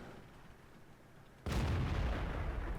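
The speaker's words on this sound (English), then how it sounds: "So now I'm just trying to get a shot at this T-54" A tank cannon fires at a T-54 in World of Tanks: a quiet hum, then one loud abrupt boom midway that sustains into a rumbling roar.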